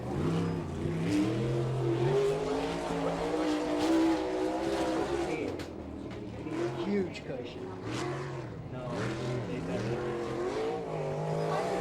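A non-wing 305 sprint car, car 31, runs laps on a dirt track, its engine pitch rising and falling as it revs through the turns, continuous and fairly loud, with an announcer's voice carrying over the sound.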